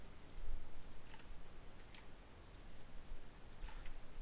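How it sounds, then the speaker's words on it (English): Clattery computer keyboard keys tapping and clicking in short irregular bursts while a 3D missile model is animated, close and fairly loud over steady background hiss. "sorry about my loud-ass keyboard"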